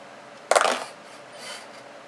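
A few dice, a D20, a D6 and a D10, dropped onto a surface, giving one sharp clattering burst of light plastic clicks and tumbles that settles within a fraction of a second, close and alone.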